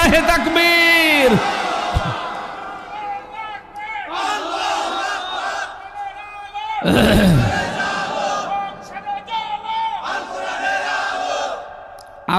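A large crowd at a religious-political rally roars a takbir slogan in loud unison, with a leader's shouted calls starting each round, swelling into repeated massed shouts that fill the space.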